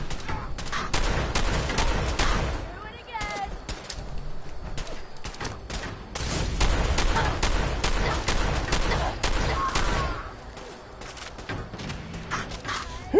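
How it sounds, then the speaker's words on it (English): Gunfire in a PS4 shooter, with rapid bursts of loud close shots and shotgun-like blasts, some scattered pops and thuds between volleys, continuing throughout. "Who the heck is still shooting me?"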